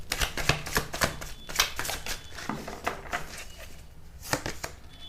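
Tarot cards are drawn and laid out close by: brisk, irregular papery flicks, slaps and shuffles, some quick clusters and a few louder taps, with no talking.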